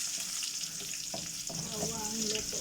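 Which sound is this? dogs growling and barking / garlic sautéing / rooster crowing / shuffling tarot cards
garlic sautéing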